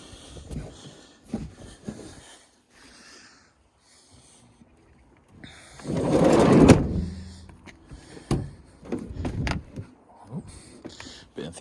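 A car door swung open with an energetic burst, a loud broadband thump and rattle lasting about a second, standing out from quieter handling noises before and after.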